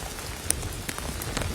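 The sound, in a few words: heavy rain coming down during severe weather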